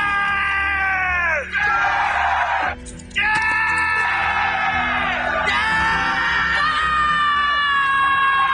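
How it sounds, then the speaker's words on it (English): The Rohan army in Lord of the Rings yells after Theoden's speech, a loud mass of voices shouting and roaring together in long sustained cries, with two short breaks in between. "Theoden gives this rad speech where they all end up yelling"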